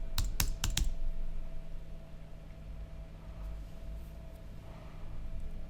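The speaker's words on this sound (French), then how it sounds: "vous allez taper un petit mot" A short, quick burst of a few keystrokes on a computer keyboard near the start, then quiet room hiss with a steady faint hum.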